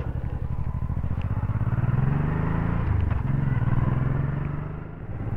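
A motorcycle engine held at steady open throttle, a loud continuous rev with a brief dip partway through before it climbs again, rider aboard on the road.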